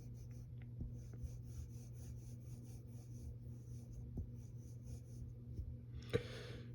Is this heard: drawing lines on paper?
yes